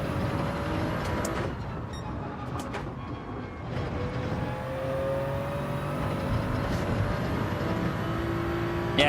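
A Toyota Supra racing in the video game Gran Turismo 7, its engine droning and revving steadily with rising and falling pitch as it accelerates, along with faint clicks and other cars nearby.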